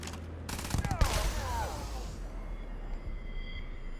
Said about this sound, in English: Somebody's shooting at us.